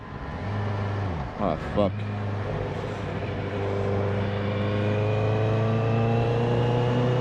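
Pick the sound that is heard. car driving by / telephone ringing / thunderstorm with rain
car driving by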